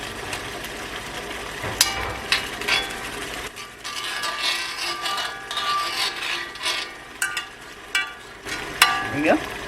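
Pork fries in oil in a wok, a continuous crackling sizzle with irregular scrapes and clatters as the meat is stirred.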